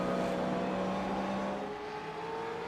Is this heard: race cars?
yes